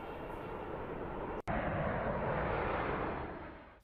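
A Boeing C-17 Globemaster military transport aircraft flies past with a loud, steady, broadband engine roar. The roar breaks off for an instant near the middle, then continues and fades slightly toward the end.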